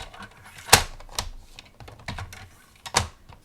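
Paper trimmer blade sliding down through cardstock, a series of close, sharp clicks and short scraping ticks, with two louder snaps standing out in an uneven rhythm and no talk.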